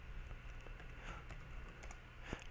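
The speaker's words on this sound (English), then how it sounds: "Just going to type it in here." Quick, quiet keystrokes on a computer keyboard, a steady run of light clicks with a faint background hum.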